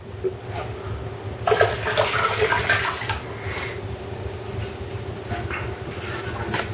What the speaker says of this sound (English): I am putting water in the beans